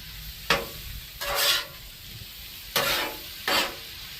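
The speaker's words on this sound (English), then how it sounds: "We're going to add the Rotel and the tomatoes." Rotel and tomatoes hitting a hot Blackstone griddle in a Cajun stir fry, with four bursts of sizzling as the food is added and stirred, separated by a quieter steady background hiss.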